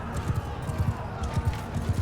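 Horses gallop in Bannerlord's battle with throwing axes and crossbows: a steady, rapid clip-clop of hooves drums beneath loud, dense battle noise.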